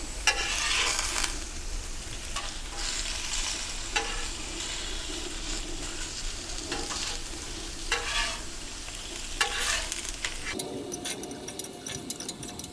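Homemade potato chips with salt and pepper fry on a Pit Boss Ultimate gas griddle, giving a steady, loud sizzle. Sharp scraping bursts from a spatula break in now and then, and the hiss drops off near the end.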